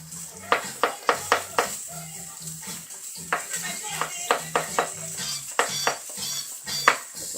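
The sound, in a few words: potatoes frying in oil in a pan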